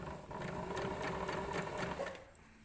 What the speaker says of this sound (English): We don't ever sew over pins because we could risk snapping the sewing needle and we don't want to do that.